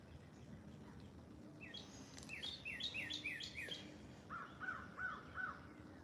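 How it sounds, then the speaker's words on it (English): Outdoors beyond the city, a crow gives a run of rhythmic, raspy repeated calls at moderate distance over a steady low background hum, then a second, lower series of evenly spaced calls follows. "That crow."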